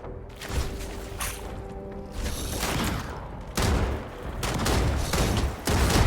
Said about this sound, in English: What the hell are you firing at?